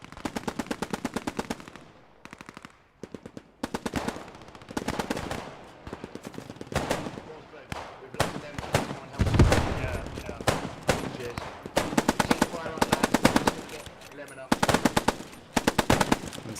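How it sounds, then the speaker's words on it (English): Sustained machine gun fire in the WWII shooter Post Scriptum during a large realism event, with repeated loud automatic bursts from several guns on both sides, some near and some farther off, trading suppressive fire with short pauses between volleys. "See, there's just blind fire going on at the moment. Suppressive fire from both sides."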